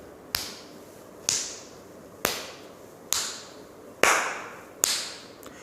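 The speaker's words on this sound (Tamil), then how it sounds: "வச்சுக்கிட்டு வலது கையால் இப்படி தட்டுங்க." A right hand slaps the open left palm six times at a steady, unhurried pace, each contact a crisp, close smack that fades quickly, with no voices.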